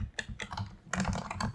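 Rapid, uneven typing on a computer keyboard during coding, close and clear, with bursts of clustered keystrokes separated by short pauses and no talking.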